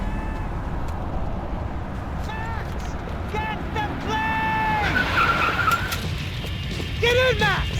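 Car tires skid and squeal as the engine drives hard in a Max Payne 3 game chase, a steady loud roar under repeated sharp screeches, with shouting voices over it.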